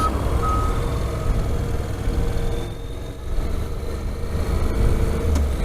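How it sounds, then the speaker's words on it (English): An eight-wheeled road roller reverses on a Texas roadside, its engine giving a steady low rumble while a faint reversing beep sounds, heard from a short distance with constant background noise and no talking. "here comes the roller vehicle with 8 wheels"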